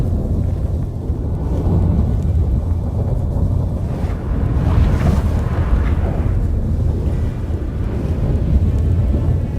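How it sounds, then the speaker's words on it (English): A storm rages in Witcher 3 with strong roaring wind and deep rumbling thunder, a continuous heavy low wash that swells briefly in the middle, with no voices over it. "That a storm?"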